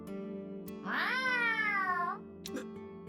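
A voice mimics a cat's meow in a long, rising-then-falling wail over steady background music in the game AI: The Somnium Files, with a brief unrelated blip afterward.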